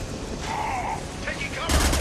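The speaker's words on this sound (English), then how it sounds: "Firing an impact shot!" An impact shot fires in the video game Mass Effect 2 as a short, sharp burst near the end, rising over busy battle noise and a voice talking.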